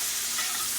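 Garlic sizzling in a hot pan, a bright, steady crackling hiss that stays constant through a brief moment, with no voice.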